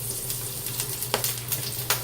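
Peppers fry in a little oil in a pan for homemade tacos, a close, steady sizzle with scattered small pops and crackles.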